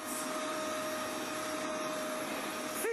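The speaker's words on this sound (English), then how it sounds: "Heavy duty vacuum with that brush roll, 1800 watts." Heavy-duty 1800-watt vacuum cleaner with a brush roll running continuously, a loud steady whining drone close by that rises slightly at the end.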